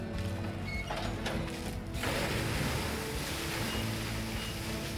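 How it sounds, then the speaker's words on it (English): Water sloshes and rushes over a winery grape destemming machine during a rinse outdoors, a steady wash of splashing and surf-like noise mixed with mechanical clatter, louder after the first two seconds. "The big splash, which gives the machine a good old-fashioned rinse."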